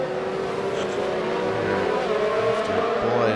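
A Formula 1 race car engine from a video game racing round at the Brazilian Grand Prix holds a steady, loud, high-pitched whine under full throttle, continuous and close throughout.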